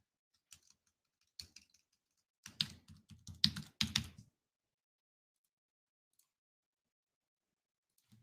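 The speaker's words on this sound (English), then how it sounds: "I'll type in my password" A password is typed on a computer keyboard in a few quick bursts of close, crisp key clicks, the densest flurry in the middle, then silence.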